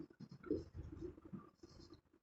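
Pen scratching out figures on paper during a physics lesson on relative velocity, a quiet run of short scribbled strokes in uneven rhythm, close and soft, with no talk over it.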